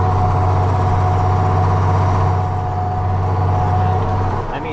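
A big Ford tractor engine labours steadily under load, pulling a plow through frozen tundra ground with the diff locked and four-wheel drive on, a loud continuous low drone that dips slightly near the end.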